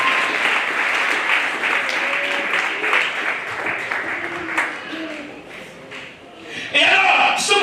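A church congregation applauds during a French-language sermon, a steady wash of clapping that fades slightly mid-way and swells again at the end, with people talking over it.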